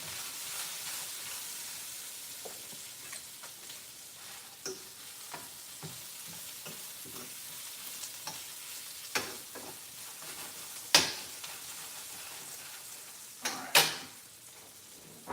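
Onions fry in a pan beside steak with a steady, soft sizzle, broken by scattered clinks and scrapes of stirring and a few sharper taps near the end.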